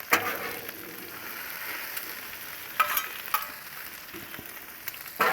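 Potatoes and bacon fry on a Blackstone griddle with a soft, steady crackling sizzle, broken by a few sharp spatula clicks and scrapes. Close and fairly quiet, with no talking.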